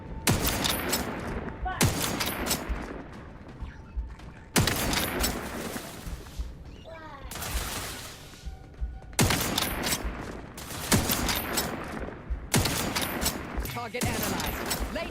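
Video game gunfire comes in dense rapid bursts that cut in abruptly and run for a few seconds each, loud and close, with brief gaps between volleys and voices speaking at times.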